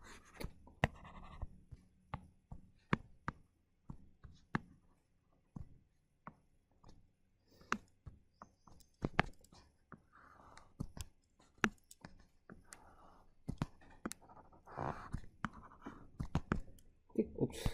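A lecturer erases a classroom board with a series of irregular, close scratchy swipes and rubs in bursts, with occasional faint murmuring between strokes.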